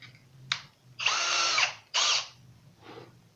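A power drill fitted with a countersink bit bores into wood or MDF in two sustained bursts of whirring, the second shorter, with brief quieter spurts of the drill before, between and after them. Nobody speaks.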